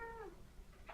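A house cat gives a single clear meow with a falling pitch, close and fairly loud, followed by a short rising chirp at the end.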